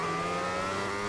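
MotoGP motorbike powering out of turn three in the MotoGP 2021 video game, its engine a loud, continuous high-revving whine that climbs steadily as it accelerates, heard without any talk.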